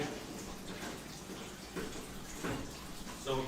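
Tap water rinsing broccoli in a kitchen, a steady rushing flow with a few splashy surges as the florets move under the stream.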